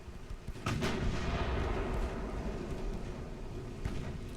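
Naval artillery in the warship game Ultimate Admiral: Dreadnoughts fires a heavy shell with a loud booming blast, followed by a long rumbling roll that fades slowly.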